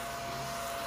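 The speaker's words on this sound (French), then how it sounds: "Checkez ça, un aspirateur pour la table." A small tabletop vacuum cleaner whirs in a steady, close, unbroken motor drone with no talking over it.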